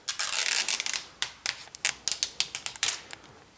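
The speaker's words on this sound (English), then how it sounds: "let's go ahead and start peeling off this plastic" Plastic film peels off Samsung Galaxy Tab 3 7.0 packaging in a rapid series of crisp, crackling ticks and snaps, close and fairly loud, coming in irregular bursts with no talk.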